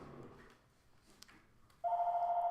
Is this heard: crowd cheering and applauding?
no